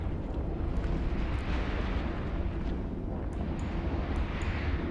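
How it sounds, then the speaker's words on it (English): A ship explodes in the space game EVE Online during a mass test, heard as a continuous heavy rumbling roar that fills the whole stretch, dense and loud, with faint higher crackles on top. "Something did just blow up."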